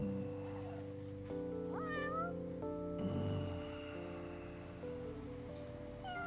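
Several stray cats meow in Yakuza 6, short rising and falling calls repeating one after another over a steady bed of background music.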